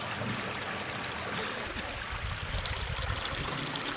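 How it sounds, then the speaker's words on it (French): A small stream of water trickles steadily into a mountain lake in the Carlit area of the Pyrenees, a close, continuous broadband wash with no voices. "On s'est mis au niveau d'une petite arrivée d'eau."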